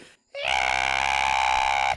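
A player's voice imitates a creature's scream, one sustained, loud, strained shriek lasting under two seconds after a brief silence.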